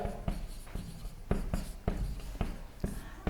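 Chalk or marker taps and scrapes across a board during an agronomy lecture on pea varieties, a close series of sharp strokes at an irregular rhythm, with no talking.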